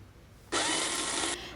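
A mixer grinder whirs through boiled spinach, green chillies, garlic, ginger and cumin, a loud, steady, close burst lasting under a second before cutting off abruptly.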